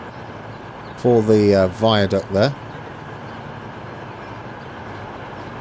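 A British Rail Class 220 train runs at speed in Transport Fever 2, giving a steady, even rumble throughout. Someone talks briefly over it near the start.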